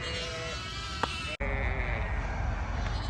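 Ewes out in a field at lambing time let out a few short bleats, moderately near, over a steady outdoor hum with a brief dropout midway.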